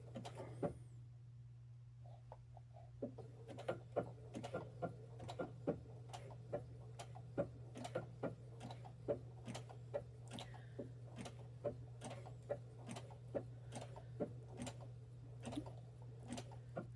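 A Brother SE 2000 sewing machine stitches slowly. Soft, evenly spaced clicks tick over a steady low motor hum, faint and close.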